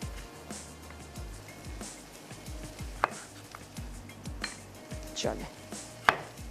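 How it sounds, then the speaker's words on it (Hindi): Quick, steady knife chops through tomatoes on a cutting board in a home kitchen, a brisk even rhythm of close, crisp strikes with a few sharper knocks, and a brief spoken word over them. "टमाटरों को मैं यहाँ पे चॉप कर लेती हूँ"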